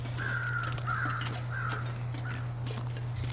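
In the survival video game The Long Dark, crows caw four or five times in hoarse, drawn-out calls from a moderate distance, over a steady low hum and soft crunching footsteps.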